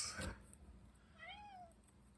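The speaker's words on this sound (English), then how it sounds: "And there's a cat that you hear." A single drawn-out meow from a visiting cat, faint and somewhat distant, rising and falling over a quiet room with a soft thump near the start.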